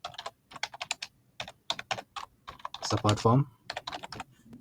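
Computer keyboard typing a document title into a form, short bursts of keystrokes around a steady stretch of talk, fairly close and moderate in level.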